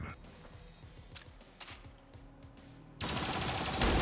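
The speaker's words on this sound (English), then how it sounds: "Turret firing down, he should probably drop to Overwatch again, he does." Turret gunfire in the video game XCOM 2, with rapid rhythmic bursts of shots over the first three seconds, then a loud dense blast of noise that swells toward the end.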